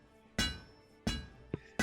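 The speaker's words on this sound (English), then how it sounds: "hammer it out just like we did before" A sword blade is hammered at a forge in the video game A Township Tale, with four sharp metallic strikes at uneven intervals, each ringing briefly before it fades, alone and fairly faint.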